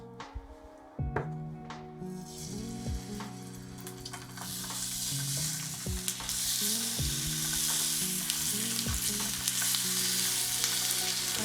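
Salted chicken pieces laid skin side down in a hot pan give a loud, steady frying sizzle that builds and holds throughout, with a few soft clinks and knocks over it and no talking.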